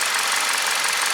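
A Hyundai LF Sonata car engine runs steadily, a dense, loud, continuous mechanical hum and rattle close up, with no voices.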